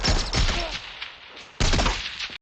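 Movie gunfire from Lone Survivor: two loud, dense bursts of rapid shots and impacts, the second starting abruptly after a brief lull, close and harsh.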